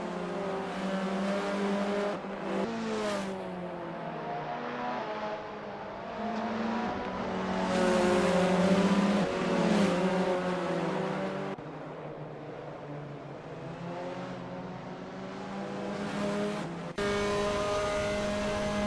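Formula 4 race cars on the Zandvoort circuit in the racing game Assetto Corsa, engines revving and shifting through gears in long rising whines, several cars overlapping, with tire squeal and cars passing by.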